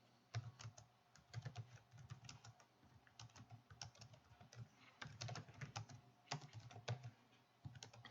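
Someone types HTML text on a computer keyboard in a quiet room: a faint, irregular run of soft key clicks, some in quick clusters and others with short pauses between them.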